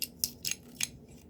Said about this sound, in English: that was a brand new pencil right there, and it sharpened it just fine with no troubles